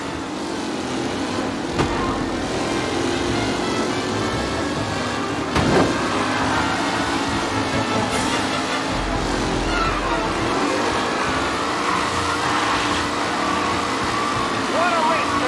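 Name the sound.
race cars driving in Mafia Definitive Edition video game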